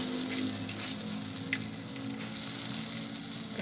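A heart-shaped banana blossom patty fries steadily in a hot pan, giving a continuous, moderately loud sizzle with no one speaking.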